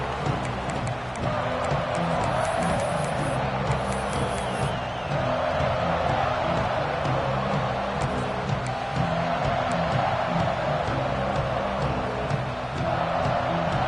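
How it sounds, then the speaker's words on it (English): A college football stadium crowd at a Clemson versus Texas game keeps up a steady, loud roar and cheer throughout, with a commentator talking over it. "This crowd ready to make its presence known."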